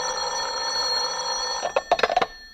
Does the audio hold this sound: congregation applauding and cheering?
no